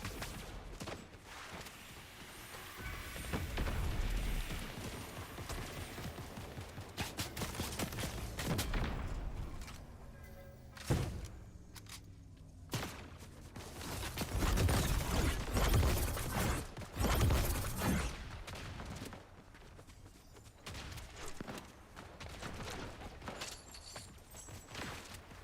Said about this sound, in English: Who the hell is shooting at me?